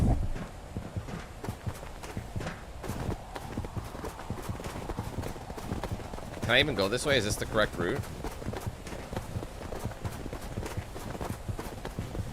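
Footsteps of a player character in the video game NEDRA, a steady clip-clopping run of steps under someone talking throughout, with a brief burst of higher in-game sound partway through.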